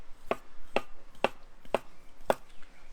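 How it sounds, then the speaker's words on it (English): A knife slices part-boiled potatoes on a board while a white pizza is prepared, giving five sharp, evenly spaced cuts over low background noise. "I'm just going to slice up I've got some part boiled potatoes"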